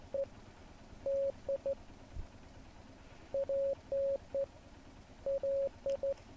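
Morse code beeps from the video game Martha Is Dead: short and long steady tones in three clustered bursts, clean and moderately loud against faint background hiss, with no talking.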